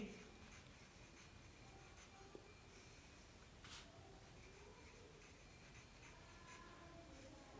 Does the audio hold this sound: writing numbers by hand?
yes